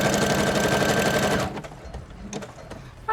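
A sewing machine runs fast and steady stitching a zigzag seam on pockets, then stops, leaving a few quiet clicks and handling noises.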